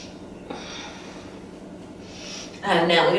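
Deep, audible breaths drawn during a beginner yoga class practicing three-part breathing, with a soft inhale early on and a louder, fuller breath rushing in near the end.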